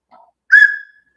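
A handmade maple wooden whistle gives one clear, loud shrill blast that fades out, coming after a brief softer breathy toot.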